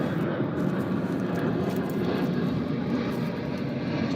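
Airplane passing overhead, a steady low rumbling drone that holds fairly loud and even from start to finish, heard from indoors with no voices over it.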